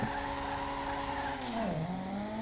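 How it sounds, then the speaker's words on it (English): A car in GTA V revs hard with a steady, droning engine tone, then the pitch dips as the tires squeal and skid, loud and continuous with no talking. "We're going to rev the car up just now."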